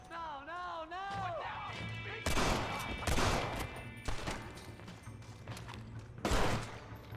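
Pistol shots ring out in Red Dead Redemption 2, several loud sharp cracks at roughly even intervals over a busy backdrop of game noise, music and voices.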